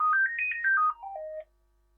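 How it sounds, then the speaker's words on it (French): A phone ringtone plays a short rising then falling melodic run of tones, clear and alone in a quiet room, ending after about a second and a half. "le téléphone sonne"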